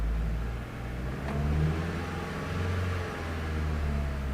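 A car engine being started and revved in a steady, hot, struggling run, with a low continuous engine drone and rising and falling revs throughout, loud and close, with no one talking over it.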